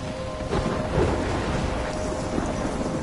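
A thunderstorm in the video game Life is Strange pours heavy rain with a deep rolling rumble of thunder beneath it, loud and continuous throughout.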